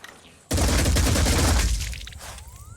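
Gunfire in the video game Phoenix Point: a sudden loud burst of rapid shots that holds for about a second and a half, then fades into a falling whine.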